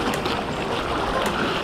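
Surfer paddling out on a surfboard for a first lesson, water sloshing and washing steadily around the board with a constant broadband wash, no clear voices.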